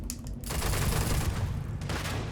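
Gunfire in the video game Starfield Shattered Space, a sustained burst of rapid shots that merge into a dense rattling roar and then trail off near the end, with no one talking over it.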